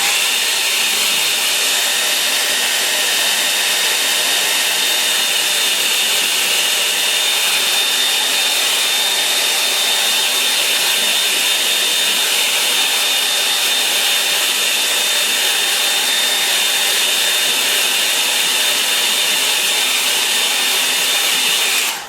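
A hair dryer blows steadily on wet watercolour paint, a continuous, loud, even whooshing drone that holds unbroken for over twenty seconds with no talk.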